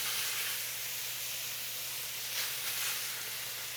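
Venison sizzles steadily on a hot griddle greased with butter, a constant bright hissing crackle that swells slightly near the end, heard close with no talking.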